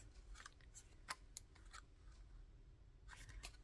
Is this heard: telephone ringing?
no